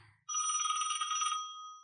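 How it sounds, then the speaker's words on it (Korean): A telephone bell rings once in a quiet indoor domestic scene, a bright, steady electronic trill lasting about a second and a half and then cutting off, with no voices. "갑자기 전화벨이 울렸다."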